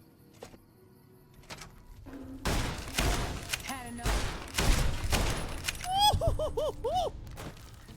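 Repeating rifle shots in Fallout: New Vegas, several loud close cracks in quick succession amid game effects and mechanical clatter, with tonal chirps near the end.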